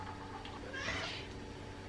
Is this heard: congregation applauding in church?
no